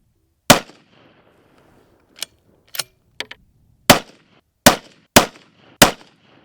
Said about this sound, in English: this is the first time this gun has been fired in a long time